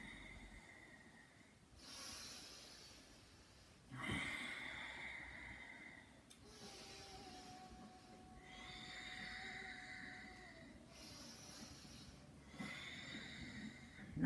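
Slow yoga breathing during spine curls, with long audible inhales and exhales repeating in a steady cycle, soft and close, each breath a breathy hiss lasting a couple of seconds.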